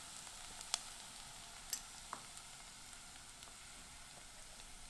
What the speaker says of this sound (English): in goes the garlic.